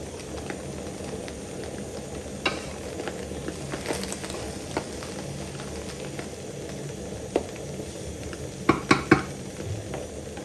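Vegetables stir-frying for Nigerian fried rice, a steady low sizzle and hiss throughout with scattered clicks and scrapes of a spatula stirring the pan, a few sharper knocks near the end.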